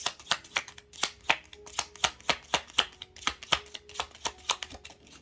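Tarot cards shuffled by hand, a quick run of crisp riffling slaps in an even rhythm of about three per second, close and clear with no voice.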